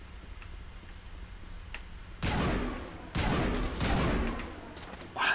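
In the video game Mass Effect, a gun fires two loud, close shots about a second apart, each with a lingering crackling tail, followed by a fainter third burst.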